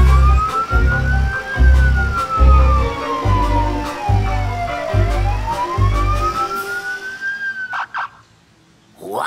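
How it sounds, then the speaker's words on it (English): A cartoon police car siren wails in rising and falling sweeps over a pulsing low rhythmic backing, ending with a few short chirps, loud and close, with no talk. "Morphle, police car, take you to jail!"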